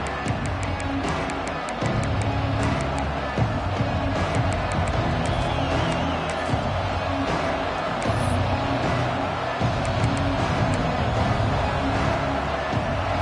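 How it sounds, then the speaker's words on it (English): A large college football stadium crowd roars steadily from start to finish at a game against Georgia, a dense wash of cheering and whoops that never drops away. "This crowd ready to make its presence known."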